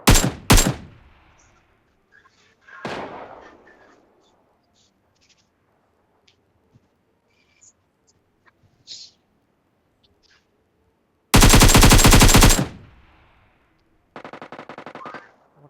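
Bursts of gunfire from a shooting video game, a sharp volley at the start and another around the middle, then a long loud rapid-fire burst near the end followed by a shorter automatic spray, with quiet gaps between.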